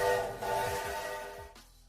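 A train horn sounds loudly in a steady multi-tone blast with a rumbling low undertone, then cuts off abruptly near the end.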